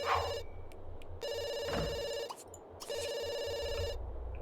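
A video game telephone rings in repeated electronic trill bursts with short gaps between them, steady and moderately loud over a low background hum.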